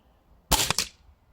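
Air Arms TX200 air rifle firing a Kaiser pellet: a single sharp, close crack with a quick metallic spring rattle and thump trailing off, against a quiet background.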